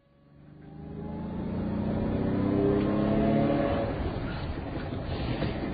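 A car engine comes in gradually and builds to a steady, fairly loud drone with rising tonal harmonics, then holds a rough rumble as it pulls up nearby; no one speaks.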